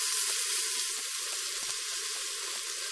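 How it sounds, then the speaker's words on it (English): Meat browns in hot, shimmering oil inside a pressure cooker pot for a Sunday pot roast, giving a steady, loud, broadband sizzling hiss that runs unbroken throughout. "My oil is hot and shimmery and it's time to brown my meat."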